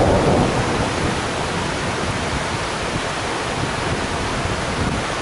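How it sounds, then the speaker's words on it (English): Thunder rolls and reverberates through the Grand Canyon in winter snow, a loud, broad, continuous rumble that swells at the start and then holds steady, with no voices. "then thunder that just reverberated through the canyons"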